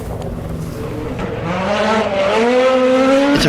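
A Ford rally car driven by Sebastian Ogier on a stage beside a dry stone wall, its engine rising from a distant drone to a loud close roar with shifting revs and a tyre chirp as it passes.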